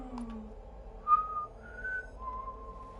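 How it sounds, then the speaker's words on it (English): Wild-west style whistling in Horizon Forbidden West, a few drawn-out whistled notes, fairly clear over a quiet game ambience, with short pauses between phrases. "It's like a really wild westy kind of whistle."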